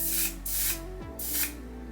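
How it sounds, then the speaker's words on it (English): A makeup setting spray releasing a continuous fine mist in two long hissing bursts, close and fairly loud, with a low hum underneath and no talking. "I like setting sprays that spray like that, just a continuous mist"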